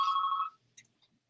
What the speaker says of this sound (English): My phone's ringing.